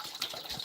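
Water poured from an old glass vodka bottle, a brief close gush of liquid with a bright splashing, gurgling texture lasting under a second.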